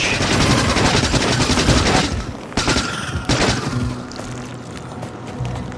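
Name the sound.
machine gun firing in a video game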